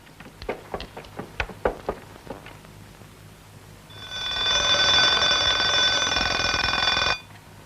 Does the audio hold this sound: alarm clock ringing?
yes